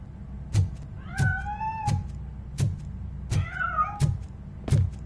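Cat meows from the video game Robocop: Rogue City: two or three short, rising mewing calls stand out between regular heavy thuds and a low background rumble.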